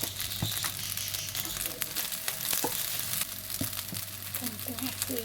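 Fried rice with dried malunggay sizzles steadily in a pan, a continuous crackling hiss with occasional scrapes and stirring clicks, close and fairly loud, with faint background voices.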